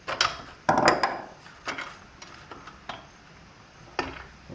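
A ratchet clicks in short bursts while a spark plug is screwed in and tightened on an old junk-pile engine, with a few sharper metallic clacks spaced irregularly and nearby.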